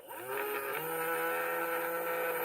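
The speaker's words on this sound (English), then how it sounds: "if I spin my VEX using a screwdriver" Small VEX robotics motor driven by spinning it with a screwdriver, a steady electric whine that rises in pitch early and then holds a constant, harmonic-rich hum.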